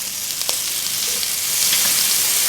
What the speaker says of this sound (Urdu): اس کو ہم صرف 1 منٹ کے لیے بھونیں گے